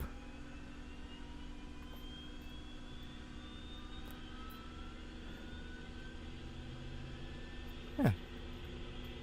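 A helicopter's second turbine engine spools up on a round-the-world flight, a steady jet-like whine with slowly rising tones over a low engine hum, one brief sharp click near the end, no talking.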